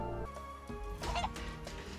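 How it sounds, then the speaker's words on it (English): A chicken in Final Fantasy VII Rebirth gives a few short clucks over layered game music and ambient tones, moderately loud and close. "Come here, you dumbass chicken."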